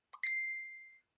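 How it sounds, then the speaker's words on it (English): A single bright electronic ding rings out alone, a sharp onset followed by a clear sustained tone that fades over about a second. "ding"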